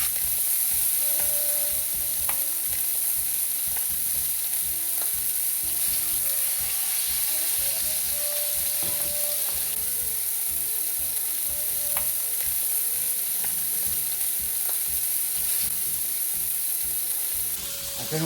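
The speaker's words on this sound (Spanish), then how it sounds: "ya tenemos el aceite caliente y vamos a empezar a poner el pollo" Chicken pieces fry in hot oil on a disco, a steady, loud, close sizzle with occasional light stirring clinks throughout and no talking.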